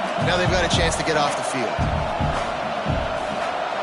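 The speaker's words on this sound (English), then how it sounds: "This crowd trying to do its part to get inside the kicker's head." A roaring stadium crowd in the College Football 26 video game, tuned to rattle the kicker before a 4th-down field goal, makes a loud, constant wash while a commentator speaks over it.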